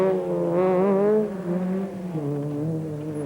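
A front-wheel drive rally car at the 1990 Race of Champions rally master races on a man-made course, its engine note climbing and falling through gear changes, moderately loud.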